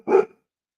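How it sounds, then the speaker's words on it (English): A single short, loud dog bark, sharp and close, with no talking around it. "This is her big girl bark right now."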